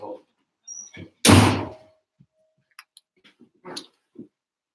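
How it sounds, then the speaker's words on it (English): A door shuts with a single loud thump, with a room's quiet and a few small taps and knocks around it. "You can shut the door."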